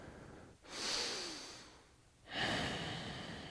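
Two long, deep breaths are drawn close and clear during a beginner yoga pose: a slow inhale, a pause, then another full airy breath, with no talking.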